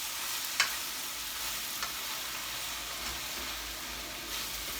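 A spoon stirs shredded cabbage for cabbage soup in a hot pot, giving a soft steady sizzle with a few sharp scraping clinks, fairly quiet and with no talking.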